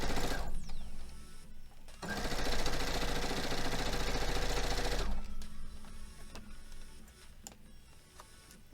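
A sewing machine stitches through quilt fabric in a steady buzzing run lasting about three seconds, framed by shorter stop-start bursts and clicks of the mechanism, close and clear with no talking.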